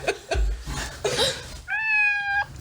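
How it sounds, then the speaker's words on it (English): A hungry pet cat lets out a clear, drawn-out meow near the end, preceded by a few short mews and rustling, close and fairly loud. "if your cat's meowing like that"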